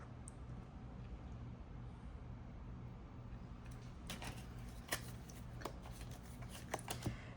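Tarot cards are shuffled and settled by hand, first a quiet stretch and then a run of soft flicking and riffling with a few sharper taps as the deck is squared, close and faint.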